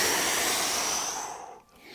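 Deep breath during a gentle Pilates lower-back stretch: one long, close airy exhale that fades and then briefly picks up again.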